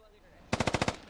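Rapid burst of about six gunshots from the military shooter game Squad, sharp and evenly spaced, firing close and loud after a quiet half-second of low background ambience.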